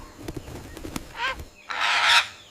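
A parrot's calls come in short bursts: a few sharp clicks, then a squawk with a raspy edge, and finally a louder, longer, harsh screech, each standing out clearly against a quiet background.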